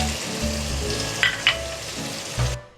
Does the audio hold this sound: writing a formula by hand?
no